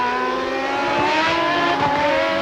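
Formula 1 cars from the 1994 Japanese Grand Prix race on a rain-soaked track, high engine whines rising and falling as they pass, heard alone without commentary.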